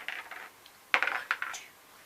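Several dice clatter and tumble across a tabletop in a DreadBall game, a short quick rattle, then a pause and a second burst of close, bright clicking as they settle.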